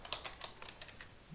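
Keystrokes on a computer keyboard, a quick run of about eight light, crisp clicks in an uneven typing rhythm, close and fairly quiet.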